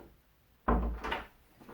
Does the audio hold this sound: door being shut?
yes